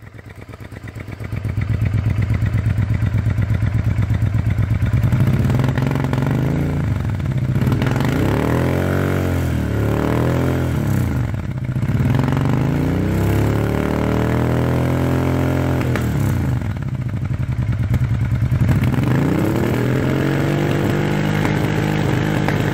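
A motorcycle fitted with a Fuel Exhaust system runs steadily close by, its engine rising and falling through several revs with rough, throaty swells over a constant idle, loud throughout with no talking.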